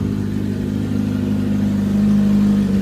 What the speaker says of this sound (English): that's what you're gonna expect from this bike when you start it in the morning